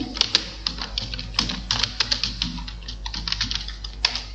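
A computer keyboard clatters in quick, irregular strings of close, crisp keystrokes during MS Word work, with a low mains hum underneath and no talk.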